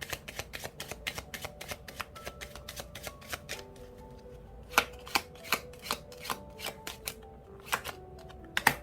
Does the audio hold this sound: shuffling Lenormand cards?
yes